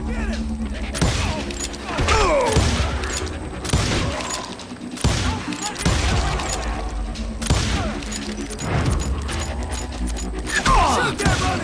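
Gunfire in Call of Juarez Gunslinger during a Wild West battle against attacking cowboys: repeated loud, sharp shots and booming blasts at an irregular, rapid pace, with clattering debris between them.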